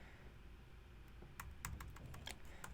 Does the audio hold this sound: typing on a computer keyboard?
yes